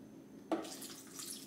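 A quarter cup of water poured from a measuring cup into a blender or food processor for pesto hummus, a short splash followed by a soft, steady trickle, fairly quiet and close.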